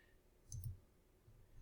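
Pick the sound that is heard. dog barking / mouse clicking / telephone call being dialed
mouse clicking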